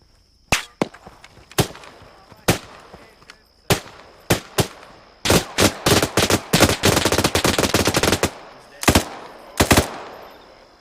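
Gunfire from the bushes in Arma 3, loud sharp shots starting as scattered single cracks and building into rapid bursts of automatic fire, with a few more shots at the end.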